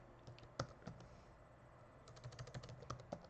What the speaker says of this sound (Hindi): अब सपोज़ हम vidIQ यहाँ पर अगर लिखते हैं